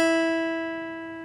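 A single plucked B string on a guitar, tuned as part of a string-by-string lesson, rings out clearly and alone, its steady tone slowly decaying over a second.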